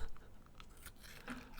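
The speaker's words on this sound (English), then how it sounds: "I will take you out with a delicious Maltesers crunch." Close-up bites into Maltesers chocolate, producing a few sharp crunches followed by brief chewing, loud and near, with no talking.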